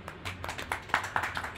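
A small audience claps briefly at a spiritual talk, a short patter of hand claps from a few people, moderately close and fading after under two seconds.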